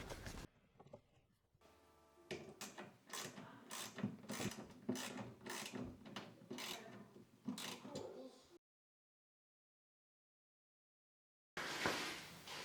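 A screw is driven through a wooden shelf batten into a plasterboard wall, giving rapid ratcheting clicks in a dense rhythmic run, close and fairly loud, then silence before a short burst returns.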